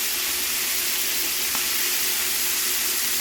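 Feta-stuffed pork medallions searing in a hot pan, giving a steady, close, broadband sizzle with faint crackles throughout and no voices.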